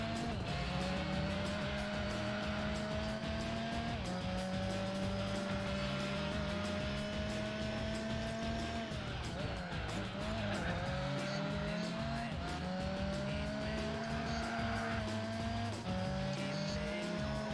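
Race car engines in Gran Turismo 4 rise and drop through repeated gear changes, with squealing tyres and skids mixed in and a constant loud roar from start to finish.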